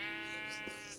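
A single sustained sheep bleat from the Minecraft modpack GregTech New Horizons, a clear, close, wavering cry lasting about a second with nothing else heard.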